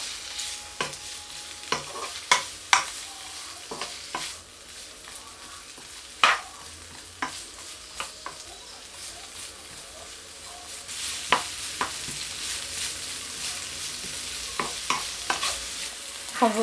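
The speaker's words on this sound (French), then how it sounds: "Je vais faire sauter tout cela pendant presque 5 minutes." Peppers, carrots and broccoli sizzle in a hot pan for Chinese noodles, with a constant frying hiss and repeated sharp scrapes and clatters of a spatula tossing the vegetables.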